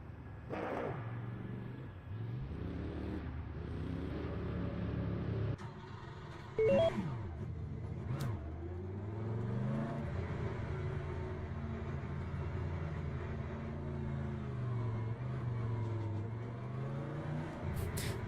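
A race car in Le Mans Ultimate, its engine droning and revving continuously as it pulls out of the paddock, pitch rising and falling with gear changes under a steady road rumble, loud and close with no talk.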